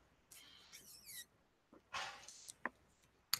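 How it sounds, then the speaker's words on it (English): A pet dog barks and yips indoors in the background while a mail carrier comes to the house, giving a few short, scattered bursts at low to moderate level with quiet gaps between them. "so I apologize for everyone listening to my dog in the background"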